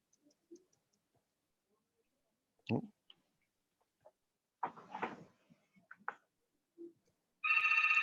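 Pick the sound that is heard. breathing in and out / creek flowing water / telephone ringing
telephone ringing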